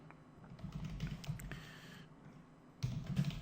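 Rapid keystrokes on a computer keyboard, a steady patter of close, soft clicks with a brief pause midway before another quick burst of typing.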